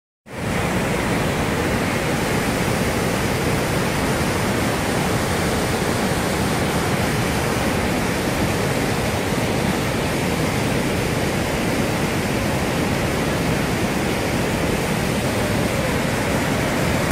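Niagara Falls thundering as a steady, loud, broadband roar of falling water, unbroken and unchanging throughout, with no voices.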